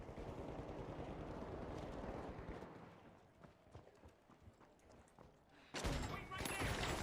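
Rapid gunfire from the chain lock gun in The Finals: a dense, rattling stream of shots, then scattered cracks, then another loud burst at the end, with voices talking over it.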